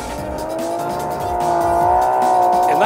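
A Porsche 911 rally car at the NZ Silver Fern Rally roars past at speed, its high revving engine rising in pitch as the tires squeal and skid on the road surface, loud and close with no talk.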